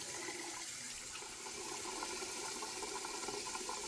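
Running water splashes steadily, with a dense, constant wash of noise at low level and no talk, as someone splashes water onto their face.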